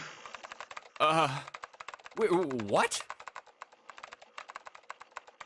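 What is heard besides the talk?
keyboard typing sound effect in the video game 999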